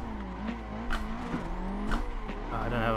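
Nissan S14 drifting in Assetto Corsa, a simulated engine droning with shifting pitch and tyre squeal running steadily throughout, with a few brief louder surges.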